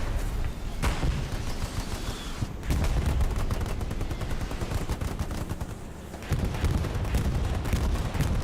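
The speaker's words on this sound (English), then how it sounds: "that is a bombing run destined to wipe out our teammates" A bombing run in the Hell Let Loose video game, with rapid gunfire and heavy blasts rolling together into a loud, sustained barrage that briefly dips near the three- and six-second marks before surging again.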